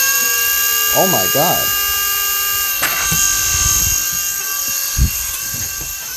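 A small Flynova LED mini flying spinner drone gives off a high, steady whine of spinning rotors that holds throughout, with a startled voice and brief speech over it.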